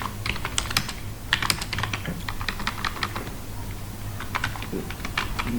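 A computer keyboard clatters as a comment is typed into a C program on arithmetic operators, with steady, close bursts of key clicks and short pauses and no voices.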